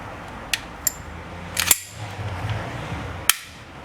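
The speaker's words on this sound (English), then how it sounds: "Rotate the takedown lever back 90 degrees and release the slide." An ICS BLE XFG airsoft pistol slide snaps forward onto its frame with a sharp metallic clack, preceded by a few small clicks and followed by another crisp click, close and clear.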